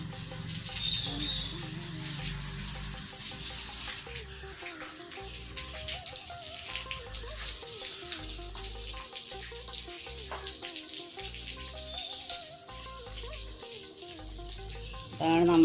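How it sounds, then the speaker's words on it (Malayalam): Water splashes and runs steadily across a muddy courtyard being washed down before Onam flower decorations are laid, a continuous close hiss and patter that plays under background music throughout. "മിറ്റം കഴുകുകയാണ്"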